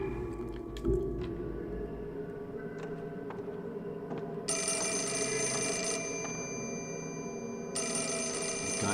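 In the Fatal Frame IV video game, a telephone rings in shrill, steady bursts, with a pause partway through, over a low ambient drone and scattered faint clicks.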